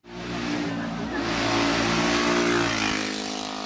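Ducati 500 Desmo motorcycle climbing the Colombres hill climb, its engine a loud, close, sustained roar that swells steadily and holds a strong revving drone throughout.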